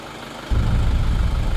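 A vehicle engine idles in a low, steady rumble that kicks in about a third of the way through and holds at moderate loudness to the end, with no voices.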